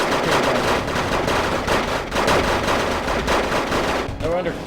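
Dense, continuous musket volleys from Dutch Mariniers crackle in a strategy video game battle, a loud rolling wall of overlapping shots with heavier booms mixed in, with a voice faintly underneath.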